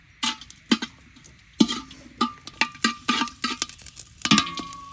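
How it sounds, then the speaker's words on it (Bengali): Whole garam masala spices dropped into hot oil in a pot for khichuri, crackling and popping in sharp irregular bursts, close and fairly loud, with clinks of a utensil against the pot. "এবার দিয়ে দিচ্ছি গোটা গরম মশলা।"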